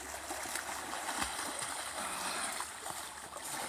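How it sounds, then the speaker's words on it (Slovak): Water rushes and swirls steadily in a whirlpool stirred into a current by people wading in it, with a constant broad wash and occasional splashes, up close. "vytvorili sme prúd a voda nás sama točí do kolečka"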